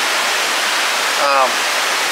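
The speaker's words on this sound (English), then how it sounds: "That creek is pretty loud." Loud broadband rush of a creek flowing past Indian Creek Campground in Cherokee, North Carolina, steady and close throughout, with a brief faint voice-like sound partway through.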